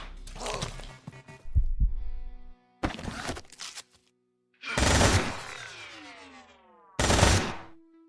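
Video game gunfire and turret shots from Quasimorph, played on Unfair difficulty, come in four loud separate bursts with ringing decays and short silent gaps between them, close and clear.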